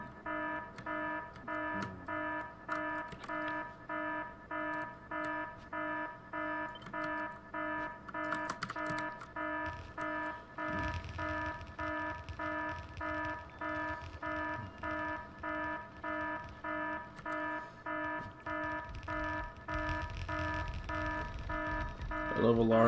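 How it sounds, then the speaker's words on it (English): Alarms in the video game Factorio repeat as a loud harmonic electronic tone, pulsing about once per second without pause, over faint background noise. "I love alarms right at the start of the stream, man."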